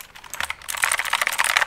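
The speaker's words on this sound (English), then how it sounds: "Doesn't it sound like a gaming keyboard?" Fast, crisp clicking keystrokes from a Logitech G512 Carbon mechanical gaming keyboard, a dense close-up patter of typing with no voices.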